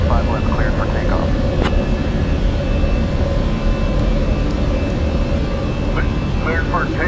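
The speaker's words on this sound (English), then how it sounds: "Cessna 9 Alpha Zulu, winds 269 and 15, runway 25 left, cleared for takeoff." A Cessna in the game Microsoft Flight Simulator 2020 takes off, its engine a steady loud drone, while radio chatter crackles over it in short bursts.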